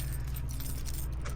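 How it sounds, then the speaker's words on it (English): Car keys jangle and clink in quick, close metallic rattles while being fitted into a car, over a steady low engine-like rumble. "it's so hard to put my fucking keys in"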